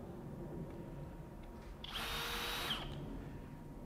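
A FLEX FXM202 24V hammer drill runs at speed 1 in one short burst of about a second, a faint whirring whine rising from a quiet room and then stopping.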